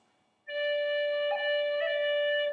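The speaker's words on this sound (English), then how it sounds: "So here's how you do a D roll." A tin whistle plays a D roll ornament, a sustained clear D note broken by two quick finger cuts in a long-short-short rhythm, close and alone, no talk.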